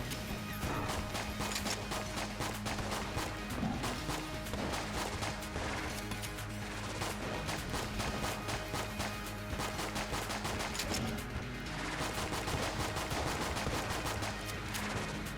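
Crash gun firing in Enter the Gungeon, a dense, continuous barrage of loud rapid shots and crashing impacts layered over game music, with no pauses for the whole stretch.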